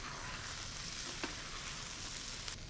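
A whole grain five-rice blend toasts in a hot pan for jambalaya, a steady close sizzle with faint occasional stirring scrapes.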